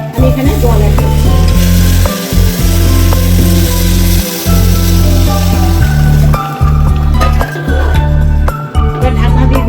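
Water is poured into a pressure cooker of fried rice for pulao, setting off loud, crackling sizzling that continues in long bursts with a few short pauses.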